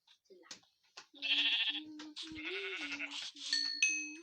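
Sheep in a survival video game let out several short, close bleats, one after another, with quiet gaps between the calls.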